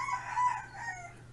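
A rooster crows once, fairly faint and somewhat distant, with the call rising and then trailing off over a low steady hum.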